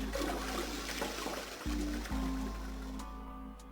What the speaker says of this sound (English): I heard a loud flushing noise